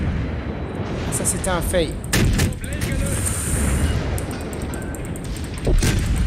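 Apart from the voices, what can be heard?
warship artillery fire and explosions in World of Warships video game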